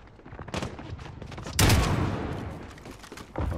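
Kilo 141 assault rifle fire in Call of Duty: Modern Warfare, several quick bursts of shots followed by a sharp, loud crack and a rolling echo that trails off before another burst.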